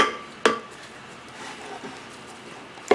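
A spoon knocking down and stirring risen dough for Cameroonian gateau in a bowl, giving a sharp clink against the bowl and a few soft scraping, sticky knocks, ending with another clink, no talk.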